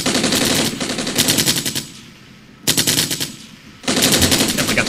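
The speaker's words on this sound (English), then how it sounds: "Definitely got some nice machine guns there." Bursts of rapid machine gun fire in the Armored Brigade war game, loud dense rattling volleys broken by short quieter gaps, with no talk.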